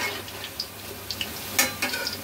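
Food frying in hot oil crackles and sizzles softly, with scattered sharp pops and ticks over a quiet steady hiss, close by and with no talking.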